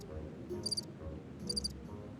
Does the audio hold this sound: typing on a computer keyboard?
no